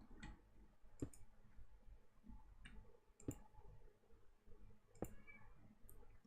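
Scattered single mouse clicks spaced about a second or two apart while playing modded Minecraft, crisp and near against a quiet hum, no voice.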